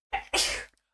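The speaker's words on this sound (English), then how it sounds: "My other half's actually sat behind the green screen here, and I've just heard a sneeze." A single close, sharp sneeze in two bursts, a short intake followed by a louder explosive release, from a person behind a green screen in an otherwise quiet room.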